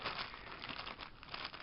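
Plastic wrapping around a package of Game Boy consoles crinkles and rustles steadily at close range as it is handled and unwrapped, a soft continuous crackle with no talk.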